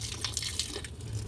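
Hot water splashes and trickles onto the bolts of a Maytag washing machine under repair, a short faint pour with small drips.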